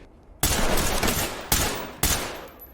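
Three loud gunshot bursts in a shooting video game, each sharp hit decaying into a rumbling tail, the first after a brief quiet lead-in and the next two about half a second apart.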